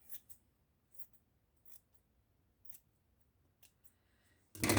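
Paper being snipped with scissors for a handmade shaker-star decoration: a series of short, crisp cuts spaced about a second apart, close and fairly quiet, ending in a louder burst.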